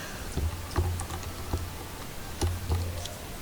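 Computer keyboard keys clatter while Majora's Mask is played, sharp clicks arriving in small irregular clusters with pauses between, close and fairly loud over a faint steady hum.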